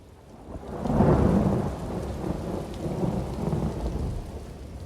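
A thunderstorm in The Elder Scrolls Online: a deep rolling rumble of thunder swells and fades over steady, hissing rain, heard alone without voices.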